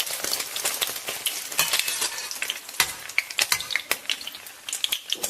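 Chopped spring onions sizzle and crackle in hot oil in a wok, a dense, steady frying hiss broken by sharp stirring scrapes and pops, close and loud with no talking.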